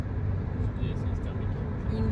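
A petrol combustion car on the move, heard as a steady low engine and road drone that stays even throughout.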